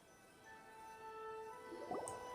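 Old paper dunked into water in a video game, a short soft splash and drip near the end of an otherwise quiet stretch with faint steady tones underneath.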